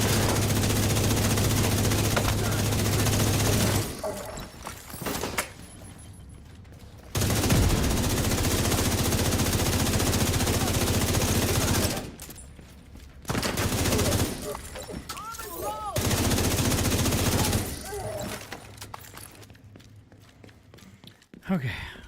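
Gunfire crackles in a video game mission as a character is shot at. Dense, loud bursts of fire come in several long stretches broken by brief quiet gaps, with faint talk underneath.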